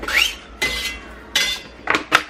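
Chopped onions drop into a cooking pot in several distinct clattering bursts, loud and close, with metallic ringing between the impacts and no talking.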